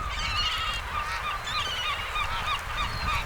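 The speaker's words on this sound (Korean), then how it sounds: "2호 둥지의 어린 새가 독특한 울음소리를 낸다" A black-faced spoonbill chick in a nest calls continuously, a chorus of honking, wavering cries close by, with overlapping calls from other birds in the colony and no voices.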